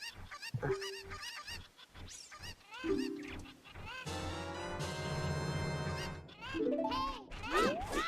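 Cucco chickens in the video game Ocarina of Time give repeated squawking, honking clucks in short bursts, with a denser stretch of overlapping game sound in the middle and no talking.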